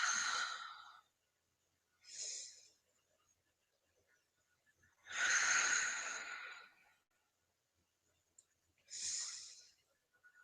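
Slow, deep breaths during guided relaxation, four drawn-out airy inhales and exhales separated by long quiet pauses, close and clear with no talking.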